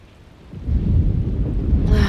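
Rain and rolling thunder in the game Alone in the Dark, a low rumbling storm swelling after a quiet start and holding steady and loud to the end.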